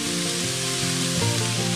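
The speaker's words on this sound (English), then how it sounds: "I'm gonna dump it right in the pan." A tofu scramble with vegetables and spices hits a hot pan and sizzles, a dense continuous hiss with some low bubbling, loud and close and heard alone with no speech.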